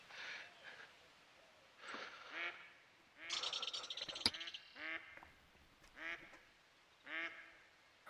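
Golden-eyed duck in a hunting game giving a series of nasal quacks in short bursts, some single and some in rapid runs, fairly close over a quiet background.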